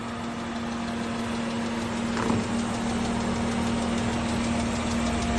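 A vehicle engine runs in a steady, loud idle-like drone as it drives over chipboard frames, with one brief thump partway through and no voices.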